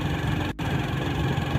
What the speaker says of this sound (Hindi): यहाँ मोटरसाइकिल 40 से ऊपर ही नहीं जाता है